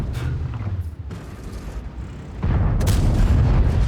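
A tank's main gun fires in World of Tanks. A heavy boom lands near the start, a second loud blast follows later, and a rumbling tail carries on after it.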